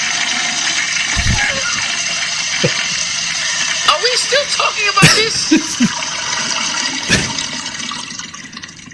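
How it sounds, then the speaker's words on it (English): A 2-gallon toilet flush in New Mexico, a rushing gush of water that swirls and refills, heard with people talking over it. "That was a 2-gallon flush"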